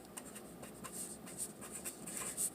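A pen scratches across paper while a parabola problem is worked out, soft intermittent strokes and taps, faint and close in a quiet room.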